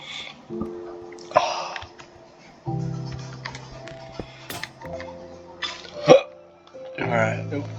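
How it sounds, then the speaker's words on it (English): A man hiccups several times, sharp short jerks spaced a second or two apart, close and fairly loud, over a low droning background hum. "excuse the hiccups."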